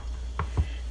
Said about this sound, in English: slide over this, which is my heated up tortilla machine